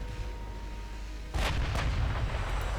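In the Ultimate Admiral Dreadnoughts naval video game, torpedoes strike ships with a sudden loud booming impact, followed by a couple of further rumbling blasts over steady background noise.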